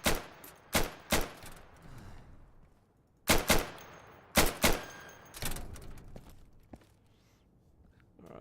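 Gunfire at practice targets in the Insurgency video game: sharp, loud single shots and quick pairs spaced irregularly, each with a short decaying echo, no talking.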